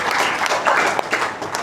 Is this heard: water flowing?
no